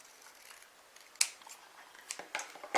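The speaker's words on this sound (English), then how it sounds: "I'm going to cut it right down the centre here" Scissors snip through a contrast-colour card tag down its centre for a handmade easel card, a few sharp crisp cuts close by in a quiet room.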